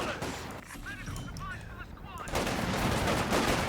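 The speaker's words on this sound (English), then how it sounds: "Using M3 quite well here, just firing at range" Gunfire from an M3 armored car shooting at range during a Company of Heroes 2 4v4 battle, a dense continuous clatter of shots and blasts that swells louder in the second half, with a voice speaking underneath.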